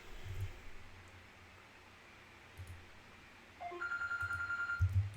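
A telephone rings faintly in a quiet room, with soft rustling and clicks early on, then a louder repeating electronic ring pulses toward the end.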